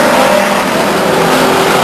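Race cars battling at the back of the field on the Stockton 99 Speedway oval, a loud, dense engine roar with revving and cars sweeping past, close and continuous with no talk.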